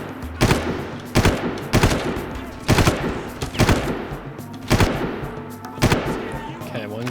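Automatic gunfire in the Far Cry 1 training mission fires in about six sharp, loud bursts at a fairly regular pace, each one echoing before the next volley.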